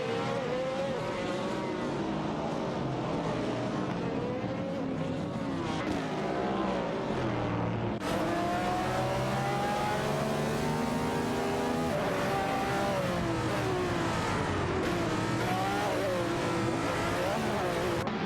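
Several race cars roar around the track together in an AI-driven racing game, including a Lola and a Nissan R382 battling for position, with continuous loud engines rising and falling in pitch as they jostle through the pack.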